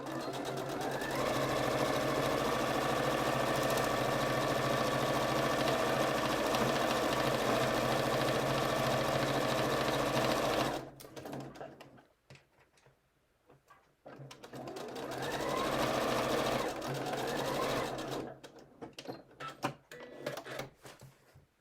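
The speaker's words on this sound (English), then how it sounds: "I'm working on a Janome 3160 QDC machine." A Janome 3160 QDC sewing machine stitches steadily in a loud continuous run, stops for a few seconds, then starts again in a second burst, close and alone with no talking.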